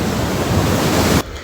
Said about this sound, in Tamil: அலை வந்து ரொம்ப ரஃப்பாக இருக்குது